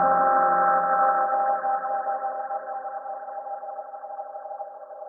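Feedback from a Boss Space Echo RE-202 tape-echo pedal with wow and flutter rings as a sustained, wobbling tone that slowly fades and thins over several seconds, alone with no talk.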